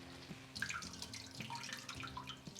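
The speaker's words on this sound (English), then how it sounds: "you want to squeeze the excess water because cucumber is very watery" Grated cucumber squeezed by hand for tzatziki, its excess water trickling and dripping out in a faint, steady run with small splashes.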